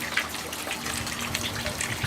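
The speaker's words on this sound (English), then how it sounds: "And you can hear that we are draining." Water draining out of an aquaponics grow bed as a steady, close rushing and gurgling flow that runs on without a break.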